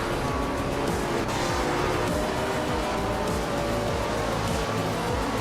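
Racing cars, including Lotus 33 and Lotus 25 models alongside Ferrari and Honda entries, lap the tight corners of the Brands Hatch Indy circuit in a racing game, a dense, continuous roar of engines with revving pitch sweeps and no pauses.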